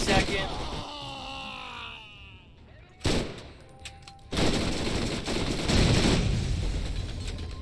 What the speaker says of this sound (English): I hate these Gatling guns.